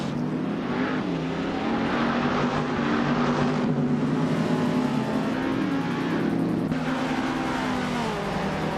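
Racing cars run on a track, producing a continuous loud engine roar with pitch that rises and falls as they accelerate and pass, sustained throughout with no talk.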